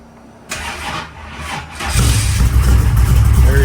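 The engine of a low-mileage Buick T Type cranks briefly on a low battery, then catches and settles into a loud, steady, rumbling idle close by.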